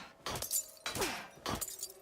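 Glass shattering in the video game Alone in the Dark (2024): three separate crashes, each a sharp bright burst followed by tinkling shards, loud and close with brief pauses between them.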